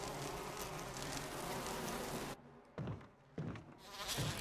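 A giant hive of bees in the Resident Evil video game makes a dense, steady buzzing drone that cuts out abruptly a few times before swelling back in.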